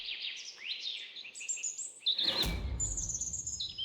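Birds chirp and sing continuously in a patio in Valledupar, overlapping bright tweets and whistled phrases, with a louder nearby burst midway and steady ambient hum beneath, no talking.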